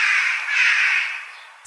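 A single crow gives one long, harsh caw, close and clear, fading at the end as a short sound effect in an audiobook.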